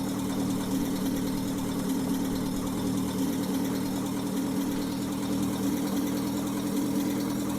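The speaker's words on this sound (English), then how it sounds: "we're just going to give it a bit more throttle, give it a bit more gas, take her up to about 50 miles an hour" A car engine in The Long Drive holds a steady, droning hum with a regular mechanical pulse, continuous and close, its note staying level rather than climbing.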